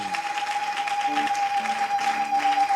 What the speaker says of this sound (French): Est-ce qu'on peut acclamer pour toutes ces personnes?